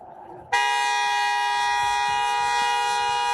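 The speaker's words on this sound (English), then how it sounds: "He sits there honking his horn" A car horn blares in one sudden, sustained, loud blast that holds steady to the end, with faint street background beforehand.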